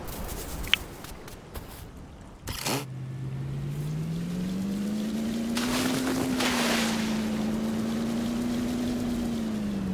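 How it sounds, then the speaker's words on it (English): A jet ski in the video game Dinkum, a droning engine that starts after a splash and runs steadily over the water with slight pitch swells, accompanied by wind and splashing. "would love a boost on the jet ski"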